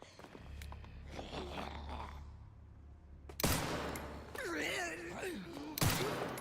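Video game gunfire crackles in bursts amid a roaring, chaotic combat soundscape, with a character groaning and other voices mixed in, growing louder partway through.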